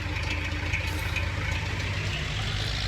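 A tractor engine in Farming Simulator 19 rumbles at a steady low idle with a faint knocking texture, continuous and moderately loud, with no talk over it.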